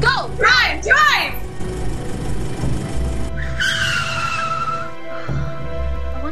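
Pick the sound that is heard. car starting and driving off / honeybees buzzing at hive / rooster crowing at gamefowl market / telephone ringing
car starting and driving off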